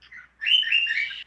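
A pet bird chirps in the background, a short faint tweet followed by a longer, brighter warbling call lasting under a second.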